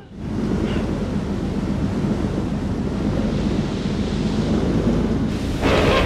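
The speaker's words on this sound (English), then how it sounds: "the big old storm's getting even worse" Storm in the horror video game Man of Medan: a loud, continuous roar of wind and rain with a deep rumbling low end, swelling briefly near the end.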